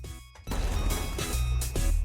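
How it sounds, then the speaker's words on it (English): Pepsiman smashes through a shrine wall in a Touhou fangame, a sudden loud crash that breaks a short quiet pause, then game music and clatter going on behind it. "Pepsiman promptly returned the favor by smashing through the shrine wall at Mach 20."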